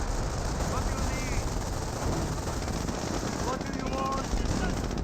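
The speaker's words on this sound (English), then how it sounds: "I've got the MG42 now firing away against these squads" An MG42 machine gun in Company of Heroes fires steadily at infantry squads, a dense unbroken rattle that fills the whole stretch while a commentator talks over it.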